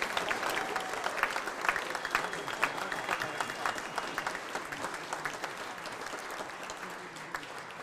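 A middle school jazz band audience bursts into sustained applause at an all-city concert, a dense wash of clapping hands from a sizeable crowd that stays strong for several seconds before easing slightly.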